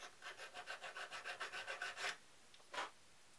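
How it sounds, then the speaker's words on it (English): A metal file rasps along the edges of a DIY quick release bracket in a steady run of about a dozen rhythmic strokes, then stops; after a short pause one faint stroke and one last stroke follow, close and fairly quiet. "using my file, just touch up the edges"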